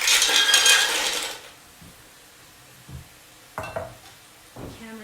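Mussels stirred in a pot with aromatics and wine give a loud burst of sizzling and scraping, then a few softer clinks and knocks of the spoon against the pot.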